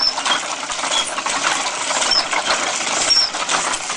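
A hand-cranked gear machine built entirely of wood, glue and dowels with no nails or screws, rattling and clicking in a steady busy clatter of ratcheting wooden parts, close and continuous.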